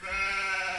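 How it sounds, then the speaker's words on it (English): A sheep bleats in a steady, wavering drawn-out call, close and fairly loud, with no talking over it. "Is that a demon sheep? It's sheep."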